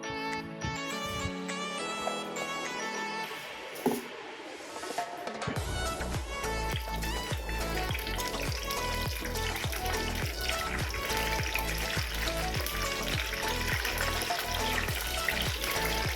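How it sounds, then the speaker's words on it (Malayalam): Cooking a Kerala mackerel curry: oil goes into a pan and mustard seeds splutter, first a soft pour and trickle, then a busy crackling sizzle with dense popping that keeps going steadily, close by and with no talk. "എണ്ണ ഒഴിച്ച് കടുവൊക്കെ പൊട്ടിച്ച് ബാക്കി ചേരുവകളൊക്കെ നമുക്ക് നോക്കാം"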